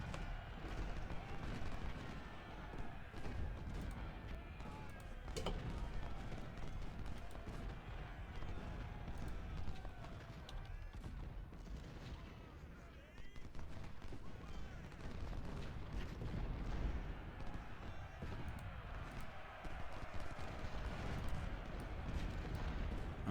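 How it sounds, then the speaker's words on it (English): Civil War artillery and musket fire in the game Ultimate General: Civil War, a dense, continuous rumble of distant cannon booms and crackling volleys with no pauses, loud and steady throughout. "I'm getting all of my artillery firing on you"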